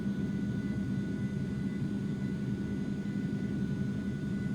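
Steady, unbroken roar of the Aerobask Eclipse 550ng's two running jet engines in a flight simulator, a low droning rumble with a thin high whine held throughout, no voices.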